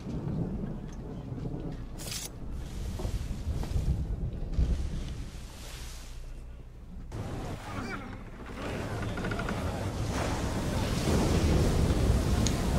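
Ocean waves in Assassin's Creed 3 Remastered roll as a steady, broad wash of surf and wind that swells louder toward the end, with occasional voices in the mix.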